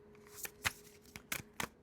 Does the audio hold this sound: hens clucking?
no